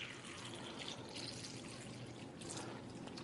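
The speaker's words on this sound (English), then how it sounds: "we're just going to simulate that by pouring some tap water in here" Tap water poured over Nature Sweet tomatoes in a bag, a steady soft splashing trickle lasting a few seconds, quiet and close with no talking.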